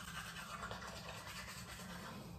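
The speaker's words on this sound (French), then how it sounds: "il est 16h, je me brosse les dents" Teeth being brushed with a toothbrush indoors, a steady close scrubbing rasp that runs continuously without pause.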